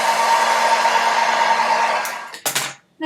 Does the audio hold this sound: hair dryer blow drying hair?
yes